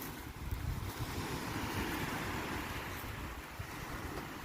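Ocean waves washing onto a white sandy island beach, a steady broad rushing surf mixed with strong wind buffeting the microphone, continuous and fairly loud with no voices.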